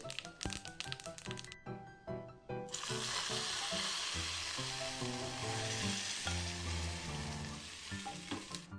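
Mustard seeds, curry leaves and dried chillies sizzle and crackle in hot coconut oil for a plum pachadi tempering, a dense continuous frying hiss with scattered pops and stirring.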